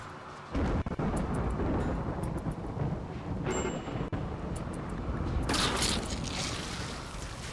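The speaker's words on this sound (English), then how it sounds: "Lightning struck the Kimfuel room." A lightning strike in the video game RimWorld lands as a deep thunderous rumble, with a sharp crack and a brighter burst of rolling noise near the end, with no talking.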